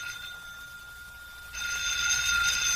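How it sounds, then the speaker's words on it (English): Old-fashioned telephone bell ringing as a radio drama sound effect, a steady electric ring that grows louder partway through, heard alone without talk. "Jim, that's your phone."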